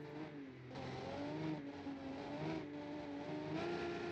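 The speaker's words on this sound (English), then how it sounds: "BMW's coming up behind, I can hear it. There it is. BMW goes past." A BMW race car in BeamNG.drive comes up from behind and passes, its engine a steady, harmonic drone that rises and shifts pitch through several gear-like changes, loud and continuous throughout.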